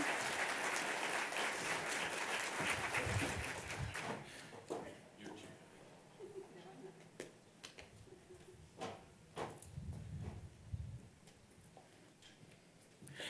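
Audience applause at a grand opening ceremony, loud and sustained at first, then fading into scattered claps and small knocks as the crowd settles.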